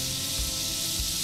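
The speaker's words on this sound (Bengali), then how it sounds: "এবার আমি সিদ্ধ মিটটা দিচ্ছি" Boiled minced meat goes into a pan with yogurt and ghee, a steady close sizzle and hiss with faint stirring scrapes throughout.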